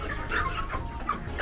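A chicken in its coop, bedding damp and dried with wood ash, gives soft repeated clucks at close range over a steady low background rumble.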